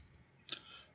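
A single short mouse click selects an entry in the Zotero reference manager, a crisp, faint tick standing alone in a quiet room.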